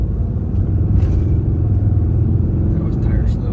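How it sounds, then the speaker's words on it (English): A RAM 2500 truck accelerates hard at 24 pounds of boost, heard from inside the cab as a loud, steady low engine and road rumble with a brief tire slip. Voices speak faintly under it. "That was tire slip."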